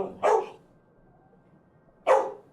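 A pet female dog gives two sharp, fairly close barks roughly two seconds apart, with quiet room tone between them and no talking.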